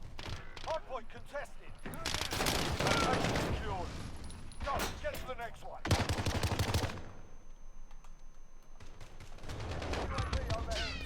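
Rapid bursts of automatic gunfire and mechanical weapon sounds rattle through a busy Call of Duty Modern Warfare match, loud and repeated with brief lulls between volleys.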